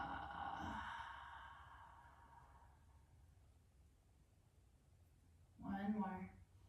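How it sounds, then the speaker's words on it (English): Long, soft exhale out through the mouth during a gentle beginner yoga flow, a breathy rush fading slowly over a few seconds, with short voiced breath sounds at the start and near the end. "Bringing your inhale in through the nose and a long exhale out the mouth"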